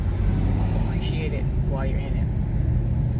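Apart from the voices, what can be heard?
road traffic, cars moving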